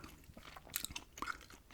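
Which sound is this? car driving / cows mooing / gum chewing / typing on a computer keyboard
gum chewing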